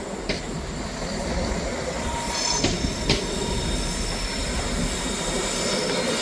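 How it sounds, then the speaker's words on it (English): ScotRail diesel service pulling out of Perth station, a steady loud rumble and rolling wheel noise throughout with brief high metallic wheel squeals and clicks, no talking. "departing out now is the 1505 ScotRail service from Aberdeen"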